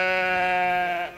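A single sheep bleats loudly and close by at feeding time on a farm, one long wavering call holding steady for about a second before breaking off, with no other sounds around it.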